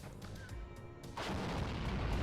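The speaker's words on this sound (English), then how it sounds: "Here is that mortar fire." Mortar fire in the WARNO real-time strategy game, a faint, muffled booming barrage with a rumbling low end that swells louder partway through and continues under battle noise.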